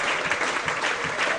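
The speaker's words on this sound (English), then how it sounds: "And Danny Livesey, a standing ovation." A football crowd at a Chester FC home match against Bradford (Park Avenue) rises in a standing ovation for a substituted player, a steady wash of massed clapping throughout.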